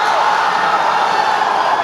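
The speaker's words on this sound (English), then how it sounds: "Crowd on its feet." At a Kaya FC Iloilo versus Manila Digger FC match in the Philippines Football League, a stadium crowd rises to its feet with a steady, loud roar of cheering.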